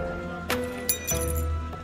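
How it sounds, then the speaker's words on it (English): Colorful glass pieces for a handmade mosaic clink against each other in a few sharp, bright taps, close by, with quiet pauses between them. "the sound of glass. A man builds mosaic from hundreds of colorful pieces."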